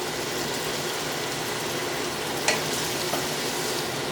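A chicken stir fry with vegetables simmers in sauce in a pan, giving a steady close sizzle and bubbling hiss with a couple of brief clinks partway through.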